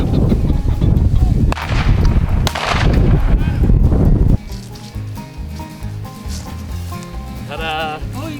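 Shotgun blasts ring out during a pheasant hunt in open fields, several loud reports in quick succession up close, then a quieter stretch with distant noise and a brief call.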